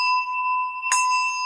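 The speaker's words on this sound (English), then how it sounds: "an instrument made by Schumrick called silver melody bells" Schulmerich silver melody bells ring with a steady, piercing tone, and a single fresh strike midway renews the ringing, clear and close with no voices.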